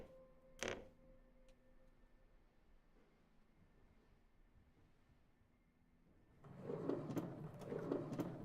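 A drawer opens in the video game The Inheritance of Crimson Manor, a brief sharp knock followed by quiet, then a louder rhythmic rattling slide near the end, with no talking.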